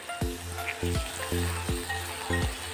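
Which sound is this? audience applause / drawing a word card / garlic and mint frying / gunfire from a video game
garlic and mint frying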